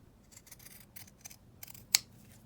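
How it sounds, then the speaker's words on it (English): Pinking shears snip through packaging card in a run of quick, close crunching cuts, ending with one sharp, louder snap. "just cut around that with my pinking shears"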